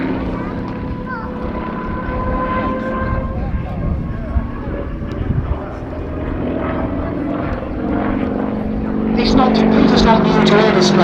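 A UK-built display aircraft at the Little Gransden Airshow 2019 drones steadily overhead, its engine tone swelling louder near the end, with a commentator's voice faintly over it.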